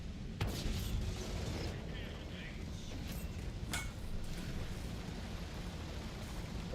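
A tank's main gun fires at an enemy in a tank battle video game: two sharp, loud blasts a few seconds apart over a constant low engine rumble.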